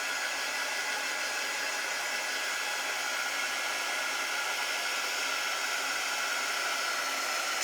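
Hair dryer blowing on wet paint over a waxed surface, a steady close whooshing roar that stays even throughout with no break.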